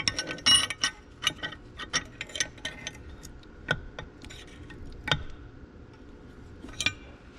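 Metal shift rail being pushed into an Oliver 1855 tractor's transfer case, a string of close, sharp metallic clicks and scrapes, irregular and denser at first, then sparser knocks.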